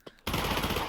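An MP5 submachine gun in Pavlov VR opens up in a sudden loud burst of automatic fire after a faint click, dense and continuous to the end.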